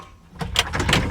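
Cab door of a 2020 Kubota SLV95-2S rubber-track skid steer loader, a quiet lead-in followed by a burst of latch clunks and rattling as the door moves, close and brief.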